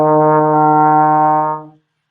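A trombone holds a single steady E flat note, full and clean, for about a second and a half before it fades out, played alone with no talk.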